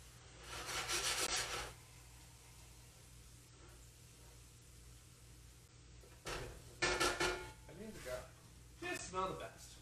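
A spatula scrapes around the edges of a pot of risotto in short, raspy bursts separated by pauses, close and moderately loud, with a person talking in between strokes.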